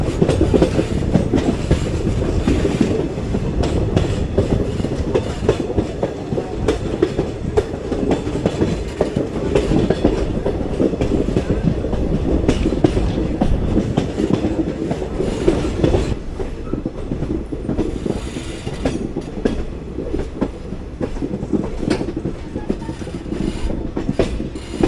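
Poorna Express (Ernakulam–Pune) passenger train rolling past the home signal toward Castle Rock station, a steady loud rumble of wheels and carriages with rhythmic clickety-clack over rail joints throughout, no voices.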